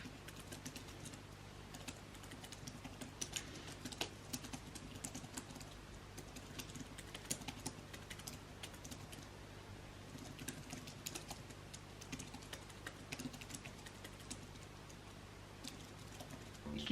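Steady typing on a computer keyboard during novel writing, a fast, continuous clatter of keystrokes close by, alone, with no talking.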